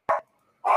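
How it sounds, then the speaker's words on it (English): A dog gives two sharp barks, short and loud, with a brief silence between them and no talk over them. "The dog, man. The dog."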